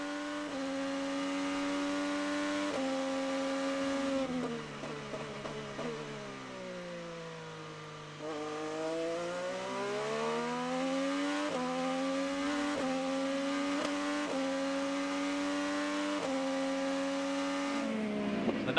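2015 IndyCar race car at the Honda Indy Grand Prix of Alabama, heard onboard: a loud, high engine whine rising and falling through gear shifts, dropping low in a slow corner before revving back up.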